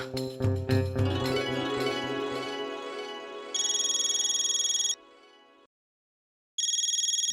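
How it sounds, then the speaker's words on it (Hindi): An electronic phone ringtone chirps in two bursts separated by a short silence, following a fading, resonant tonal sound. "बबीता जी का फोन"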